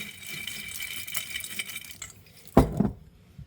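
Kitchen sounds while adding more water to dried bread cubes for stovetop stuffing: soft rattling and a faint trickle, then a loud close clatter of a dish or utensil near the end.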